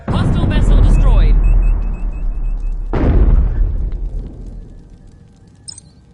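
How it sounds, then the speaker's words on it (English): Two heavy booms from a hostile starship blowing apart in Star Trek Bridge Crew, the first rumbling out under electronic chirps and sweeps, a second sharp blast near three seconds decaying into a long low rumble. "Hostile vessel destroyed."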